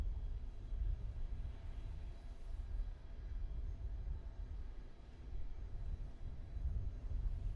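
A PMDG 737-700 lands at Beirut in Microsoft Flight Simulator 2020 with a faint, low, steady engine rumble that swells a little now and then. No one talks.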